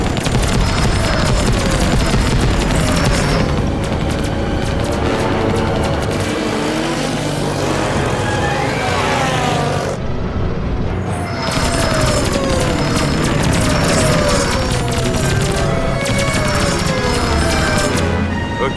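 Dense, loud battle soundscape from the animated series Skyland: continuous gunfire and explosions with whooshing craft passing, unbroken for nearly twenty seconds apart from one brief drop near the middle.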